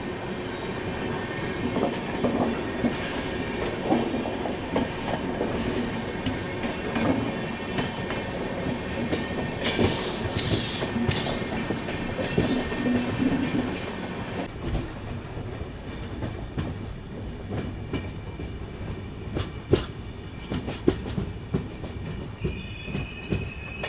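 The Visakhapatnam–Mumbai LTT Express rolls onto a branch line, a steady heavy rumble of wheels and carriages with rhythmic clacks over rail joints and brief high wheel squeals, heard continuously from on board.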